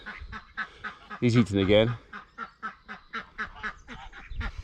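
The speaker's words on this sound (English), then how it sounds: "That duck is not happy about being shut in there." A duck shut in an enclosure quacks in a loud, raspy burst, with softer calls scattered around it while someone talks nearby.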